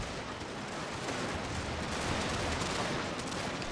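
Massed musket volleys from troops in the Total War strategy game form a dense, continuous crackle of gunfire, steady and moderately distant with no speech over it.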